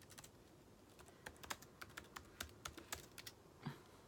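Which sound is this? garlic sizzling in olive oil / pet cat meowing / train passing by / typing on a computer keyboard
typing on a computer keyboard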